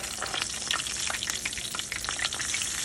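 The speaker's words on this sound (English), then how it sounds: "so all I do is just put the cube steaks in here." Cube steaks fry in a pan on the stove with a close, crackling sizzle, full of sharp pops and spatters over a constant hiss.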